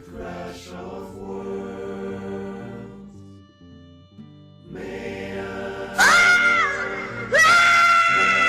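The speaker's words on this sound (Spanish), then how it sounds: "No pude hacer nada más que gritar con todas mis fuerzas." Someone in a Spanish-language audio drama screams with all their strength over a tonal music bed, the cry breaking out twice near the end, loud and strained, each burst sustained for about a second.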